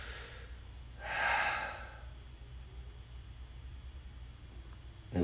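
A single deep inhale, loud and close, drawn during a bodyweight workout, rising and fading in about a second, followed by quiet room hiss.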